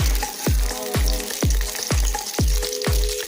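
Eggs fry in a pan until they turn deep brown. A steady sizzle runs throughout, broken by regular, repeated thuds about every half second, as if the pan is being stirred or knocked.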